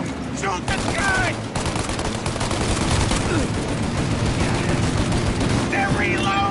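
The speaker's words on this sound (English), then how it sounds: "Shoot out their gun when there's a break in their fire!" Sustained machine-gun fire in the Mafia 1 video game, dense rapid bursts running loud and continuous almost throughout, with a brief lull before resuming; shouted voices cut in over the shooting.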